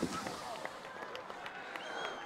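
Fireworks crackle and pop repeatedly at an outdoor cricket ground on a match day, a steady busy burst of bangs running throughout with crowd noise mixed in.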